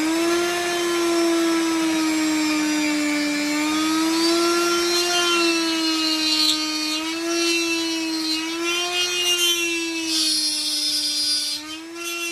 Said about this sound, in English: Now we're going to route out the middle to depth.